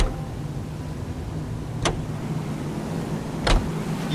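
A car cruises along in L.A. Noire, a steady low engine and road rumble that holds constant throughout, broken by two brief sharp clicks or whooshes spaced apart.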